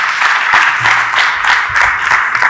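Conference audience breaks into loud, sustained applause welcoming a speaker onto the stage at a high-level green cities finance event, a dense continuous patter of many hands.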